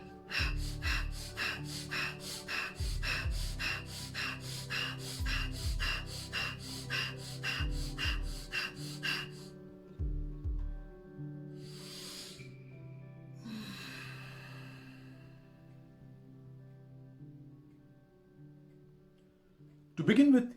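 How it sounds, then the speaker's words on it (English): Bhastrika pranayama, rapid and forceful yogic breathing: a long train of sharp, evenly spaced nasal breaths pumped in quick succession, then a few slower, deeper inhales and exhales, with a final strong breath at the end. "Now the second part, the Bhastrika."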